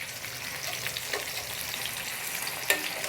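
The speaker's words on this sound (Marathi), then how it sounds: "दोन्ही बाजूने छान मीडियम टेम्परेचरवर फ्राय करून घ्यायचं आहे." Surmai fish fries in hot oil at medium temperature, a steady dense sizzle and crackle running throughout with a sharper pop near the end, no voices.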